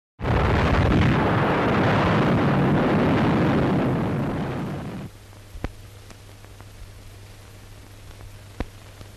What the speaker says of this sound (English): The bombing of Pearl Harbor